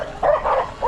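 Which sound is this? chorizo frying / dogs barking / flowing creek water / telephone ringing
dogs barking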